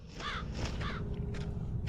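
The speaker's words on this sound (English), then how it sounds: "Ooh, a crow." Crow cawing in the horror game Haunting Ground, several harsh caws spaced apart over a low ambient background, fairly close and clear.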